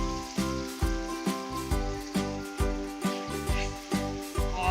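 Whole garam masala frying with onion, ginger and garlic in a pot, a steady loud sizzle broken by regular rhythmic pulses, close and with no talking.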